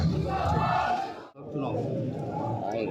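A large crowd at a nomination-filing rally in Mauganj chants and shouts loudly, dropping briefly to a lull before surging again, with voices talking close by over the din.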